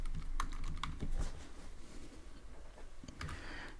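Keys clatter on a computer keyboard in short irregular bursts during coding, with a quick cluster near the start and another near the end, separated by a quieter stretch of soft room noise.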